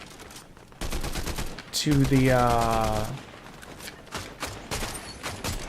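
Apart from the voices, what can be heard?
gunfire from rifles in a video game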